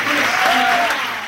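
A studio audience at a sitcom taping breaks into loud, sustained applause for the actors, a dense wash of clapping that fades slightly at the end.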